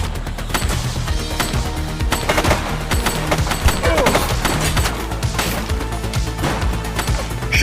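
Rapid bursts of gunfire from The Precinct video game crackle through a dense, busy mix of crashes and impacts, with fast automatic volleys and single shots repeating loudly across the whole stretch.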